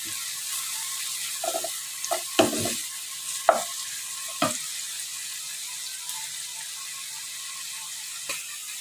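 Onion browning with minced meat in a pan while macaroni boils alongside for béchamel pasta, a steady faint sizzle under a few sharp spoon scrapes and stirring knocks in the first half, then a quieter hiss.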